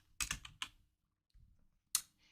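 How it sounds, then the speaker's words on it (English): A handful of keystrokes on a computer keyboard while typing an image name into a Power Apps screen template: a quick cluster of close clicks, a pause, then a few more isolated taps, all quiet. "just start typing"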